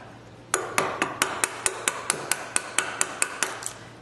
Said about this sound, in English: I come up about halfway, and I give it a few taps with my mallet.